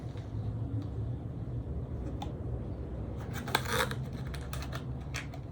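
A hand warmer packet from a 25-year-old survival kit is torn open by hand, a burst of crinkly, ripping packaging noise over a steady low background hum, fairly faint and close.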